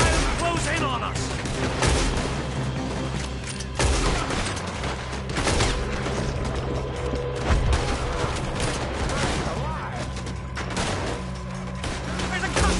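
Gunfire in Red Dead Redemption 2 as repeated shots and bursts crack through a dense, noisy firefight across the whole stretch, with voices shouting over it.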